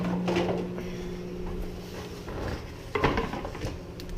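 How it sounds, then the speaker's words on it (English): Pan and acacia wood plate being handled in a home kitchen while cooking breakfast eggs and sausages, with light clinks and knocks scattered over a steady background hum, one sharper clatter near the end. "So I'm gonna grab my pan. I'm gonna grab a plate."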